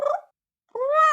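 A human voice imitating a fluffy cat: a brief nasal burst, a short pause, then a longer rising, drawn-out meow-like wail, close and loud.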